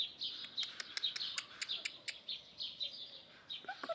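A blackbird calls in a garden beneath a magnolia near old roses, with a fairly close run of quick, bright chirps repeated steadily throughout.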